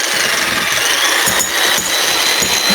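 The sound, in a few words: jackhammer hitting a wall in a video game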